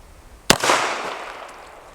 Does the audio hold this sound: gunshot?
yes